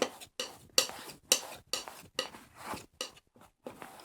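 A palette knife mixing and scraping oil paint on a palette, close and clear, in a quick irregular rhythm of short strokes separated by brief silences.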